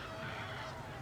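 A fowl honks and clucks faintly among steady low background noise in a Baldur's Gate 3 goblin village chicken chase, with short, slightly nasal calls and no clear talk.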